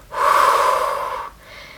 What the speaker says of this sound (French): l'autre chose qu'on va vraiment mentionner, c'est d'aller expirer